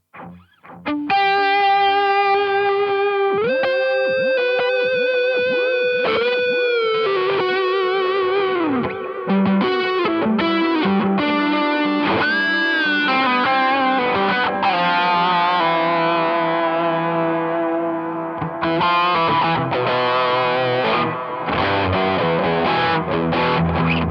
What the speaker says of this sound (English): with the tape echo, so you can turn a mix up. You can turn feedback up.